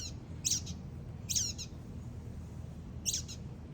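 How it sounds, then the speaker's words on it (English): Three short bursts of bird chirping at a feeder, each a quick cluster of bright high notes, spaced apart over a low steady background hum, with no talking. "It's a bird at the feeder."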